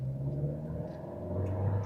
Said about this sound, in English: Now you can hear the engine a little bit further up in the distance